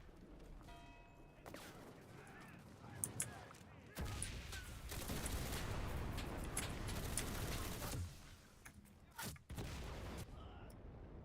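Gunfire in the World War shooter Enlisted, bursts of distant shots and a sustained noisy stretch of firing, faint and muffled beneath game ambience.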